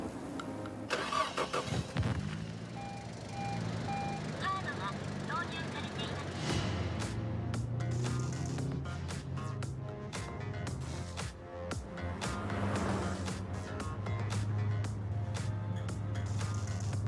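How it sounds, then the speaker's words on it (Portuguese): A 1984 Nissan RS Turbo engine cranks, catches and settles into a rough, throbbing idle with occasional blips and a faint high whistle, while someone talks over it throughout. "Este aqui, Josh, é o nosso Nissan RS Turbo 1984. Ouvi esse trazinho do turbo e esse assobio"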